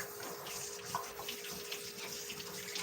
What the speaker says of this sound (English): My water pressure is real high because I accidentally got the washer out, and so it goes out very fiery high force.